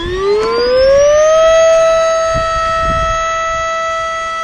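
A Flextail Evo electric air pump starts up on a kayak, its motor whine rising in pitch over the first second and then holding a loud, steady, siren-like tone.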